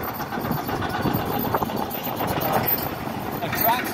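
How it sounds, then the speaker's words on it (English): A tractor rolls along a beach road at Fort Myers Beach, a steady mid-pitched engine rumble running the whole time at moderate distance. "This tractor is ruining the road here."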